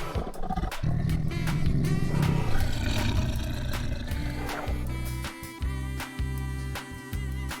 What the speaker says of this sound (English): Tiger.